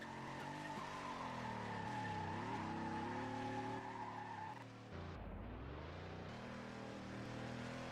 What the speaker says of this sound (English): First race back, he's doing donuts in Circuit of the Americas.